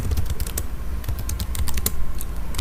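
Rapid typing on a computer keyboard, entering an English prompt into an AI tool, with close, loud key clicks in an uneven, busy rhythm and no voices.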